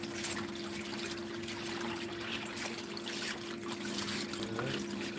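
Water rushes steadily through a gold prospecting sluice on a porch, a continuous close trickling and splashing wash with a low steady hum underneath.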